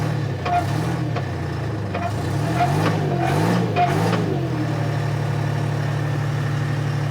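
Diesel engine of an old abandoned Michigan loader idling, a loud steady low rumble with a slight wavering in pitch early on before settling into an even drone.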